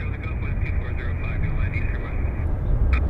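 A WestJet Boeing 787 airliner pushes back from the gate at Vancouver Airport, a steady, loud engine drone and rumble that holds without break.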